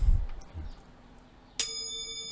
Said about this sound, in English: This is the little bowl that I ding at the beginning of the session.